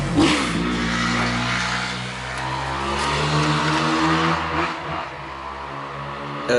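A motor vehicle revs outside, its engine note rising and holding loud and close for several seconds with steady harmonic drone and brief dips, no voices.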